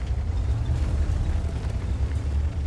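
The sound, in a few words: tank gun shot in a video game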